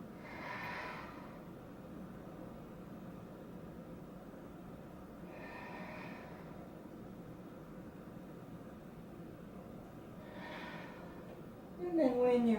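Deep, slow breaths during a yoga flow, three soft airy exhales spaced several seconds apart over quiet room tone, with a brief louder rustle at the very end.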